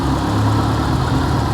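A Ford Escort RS Turbo engine idling roughly, its steady low rumble close to the microphone with a slight unsteady waver, heard alone.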